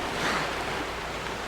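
Waterfall in Zelda: Wind Waker HD, a steady broadband rushing wash of falling water, even and unbroken throughout.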